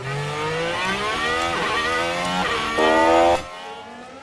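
Formula 1 cars on track in the F1 Manager 23 racing game, a loud, high-pitched engine whine rising and shifting through gears as a car accelerates past, then fading abruptly.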